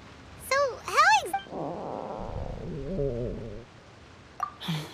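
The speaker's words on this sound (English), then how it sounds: "that would be my stomach growling" A cartoonish stomach growl in the Genshin Impact game, a long low rumbling gurgle lasting about two seconds, set between character voices talking before and after.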